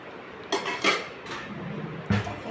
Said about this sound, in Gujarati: બધા વાટકા એમાં મૂકી દેજો હો ને.